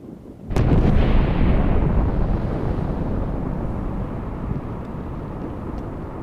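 A bomb detonates in a single sudden, violent blast, and a heavy roaring rumble follows and slowly fades over several seconds.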